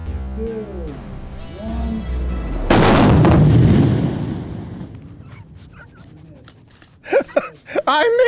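Rifle shots fired at steel targets on an outdoor precision shooting course, one loud close report rolling off into a long echo, followed by a voice speaking.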